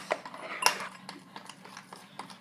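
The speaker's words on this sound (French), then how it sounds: "Donc, je vais le brasser." Microwaved melted chocolate stirred in a bowl with a utensil, making soft repeated scraping and tapping clinks close by, quiet and without talk.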